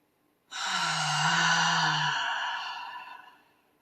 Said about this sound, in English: take a couple of nice deep breaths directly into this area and add that nice ha sound